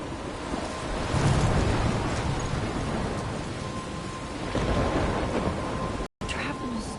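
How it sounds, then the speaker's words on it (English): A thunderstorm in a video game fills the scene with steady, loud rushing rain and deep rolling thunder that surges twice, then cuts out briefly near the end. "Trapped in a storm?"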